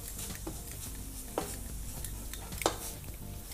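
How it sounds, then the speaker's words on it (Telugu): Grated coconut fries in ghee, giving a soft continuous sizzle close by. A few scraping stirs against the pan cut through, with the clearest one near the end. "కోకోనట్ తీసేయండి అండ్ తురిమేసేయండి, నెయ్యిలో వేయించేసుకోండి"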